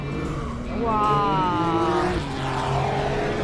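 A race car drifts around a track, its engine droning and rising in pitch at a distance, while onlookers exclaim and chat nearby.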